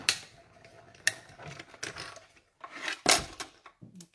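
A hand-cranked crafting die-cutting machine rolls a card through its plates, giving a series of clicky mechanical ratcheting bursts and a louder clack near the end, close and alone with no talk.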